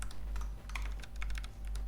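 Rapid typing on a computer keyboard, entering assembly code such as an increment instruction, with dense, steady key clicks running throughout at close range and no talk.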